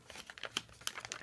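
A paper gift bag is creased and folded flat by hand, giving close, faint crinkles and sharp crackles in quick irregular bursts.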